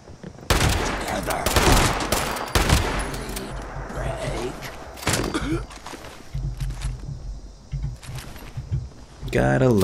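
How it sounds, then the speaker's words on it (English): Shotgun blasts and other gunfire in the video game Fallout 76 fighting scorched enemies, loud sharp bursts in rapid clusters with footsteps and game sounds between, while someone talks over the action. "Gotta love the shotgun."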